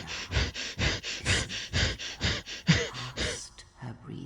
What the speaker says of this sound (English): The breathing of the blinded one as she meditates in the dark.